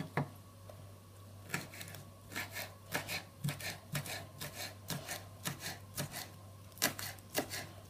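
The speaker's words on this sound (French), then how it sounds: "On va ciseler un petit peu de ciboulette" Chives are snipped finely in a kitchen, giving a steady series of short, crisp cuts in an uneven rhythm, close and fairly quiet over a low background hum.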